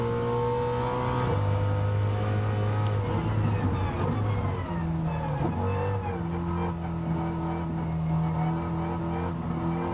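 Pickup truck engine in Gran Turismo 7 racing game, droning steadily and loud throughout with pitch climbing and shifting as it accelerates, no talk over it.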